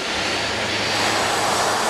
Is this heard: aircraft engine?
yes